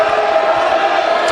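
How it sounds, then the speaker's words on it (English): Clemson Tigers basketball crowd, with a large student section, cheering steadily and loudly in a packed arena, a dense continuous roar with scattered whoops. "Gets this Tiger crowd going,"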